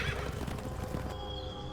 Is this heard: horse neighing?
yes